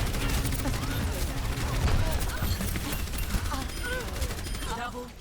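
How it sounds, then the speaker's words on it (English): Bastion's gunfire in the video game Overwatch: rapid, dense bursts of shots, loud and close, with voices and game callouts running underneath. "Good shots by the Bastion."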